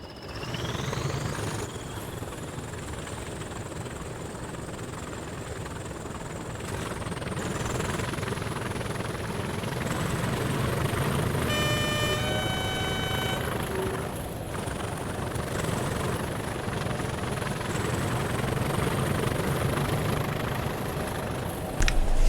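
A Class 20 diesel locomotive in a train simulator game thrashing in notch 1, a loud steady engine drone with rumbling low throb and a rising whine, continuous throughout with no talk.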